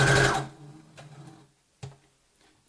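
A sewing machine runs a short burst of backstitching on a fabric face mask, a close buzzing whir that stops abruptly, followed by a couple of faint mechanical clicks.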